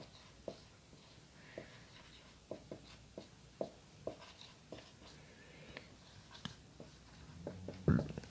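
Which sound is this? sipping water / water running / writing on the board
writing on the board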